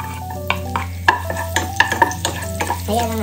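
Garlic sizzles in hot cooking oil in a pan with a steady frying hiss, punctuated by several light clinks and scrapes of stirring against the pan over a constant low hum.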